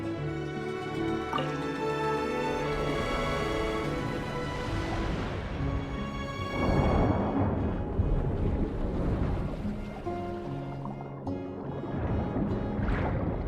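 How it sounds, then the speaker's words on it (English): In Genshin Impact, water rushes through an opened sluice gate into an empty middle chamber: a soft, broad gush and trickle that swells partway through, underneath continuous melodic game music. "That will fill the empty middle chamber with water."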